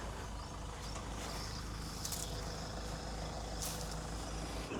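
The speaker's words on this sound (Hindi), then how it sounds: "थोड़ा सा बैक करके लेना पड़ेगा भाई, ये तीव्र मोड़ है" A vehicle backing up at a sharp bend on a rural road, its engine a steady loud rumble throughout with brief brake hiss and faint beeping, no voices.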